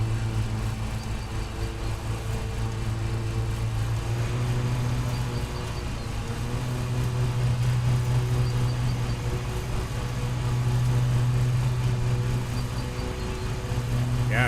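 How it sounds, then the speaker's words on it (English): A lawn mower engine runs steadily in the Lawn Mowing Simulator video game, a continuous low drone holding at an even level throughout with no pauses. "Just let the lawnmower do the work for you."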